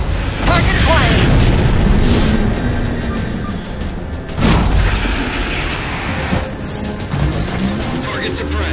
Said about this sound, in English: Target those phantoms for the railgun to shoot down.